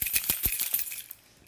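A bunch of large keys jingles up close, giving a quick burst of bright metallic clinks and rattles that fade after about a second.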